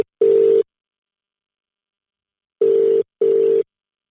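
A phone call rings out unanswered: three loud, clean ringback tones, the first alone, then after a long pause two more in quick succession, with no voices.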